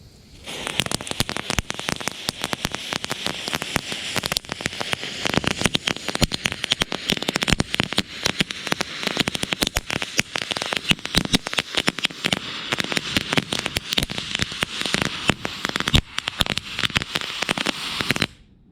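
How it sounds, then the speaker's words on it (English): Gold crackle effect fuse for fireworks burning close by, a loud continuous storm of sharp snapping crackles lasting nearly the whole stretch before cutting off abruptly, no voices. "Up next we have the gold Crackle Fuse."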